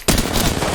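A loud, dense burst of automatic gunfire from the Free Fire video game, sudden onset and sustained rapid shots filling the whole moment, no talk over it.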